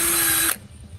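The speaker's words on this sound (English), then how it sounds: "For my next trick, we're going to drill a hole in it." A Ryobi power drill runs loud and steady with a high whine for about half a second, then cuts off abruptly, leaving only faint room noise.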